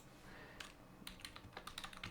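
Rapid, irregular clicks of keys being typed on a computer keyboard, quiet and close, with no voices.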